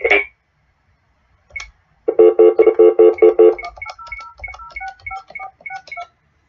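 Telephone keypad tones beep in a quick run of short, evenly spaced pulses after a brief click and pause, followed by a faster, lighter string of varied electronic beeps, clear and close with no talking.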